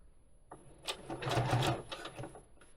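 A sewing machine stitches a rice bag made from slow-stitched fabric pieces, a short close burst of fast rhythmic needle clatter that speeds up and then slows to a stop.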